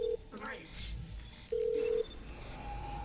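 Telephone keypad tones beep in short and longer steady pulses, a couple of distinct presses, under a low background hum and some brief speech in a game scene.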